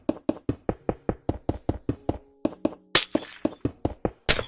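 Glass blocks being placed in Minecraft, a rapid, even series of close, crisp knocking taps, one every third of a second or so, broken twice by brief bright glassy shattering bursts.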